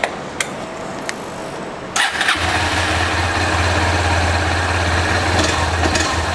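A Honda CB190TR 190cc motorcycle engine starts with a brief crank and catches at about two seconds, then settles into a steady, close, loud idle with a low rumbling throb for the rest of the time.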